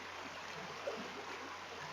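A creek flowing downstream, heard as a steady, soft, even rush of water with no voices.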